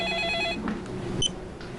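A telephone rings with a brief electronic trill, a short burst of tone that cuts off, followed by a faint second chirp against a quiet room.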